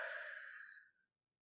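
A singer's long, soft exhale during a breathing exercise, a single close breathy sigh that fades out after about a second.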